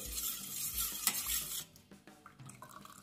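Shampoo being stirred into a lemon-peel liquid in a container, with busy scraping and sloshing that is loud at first, then settles into softer clinks and swirls with no voices.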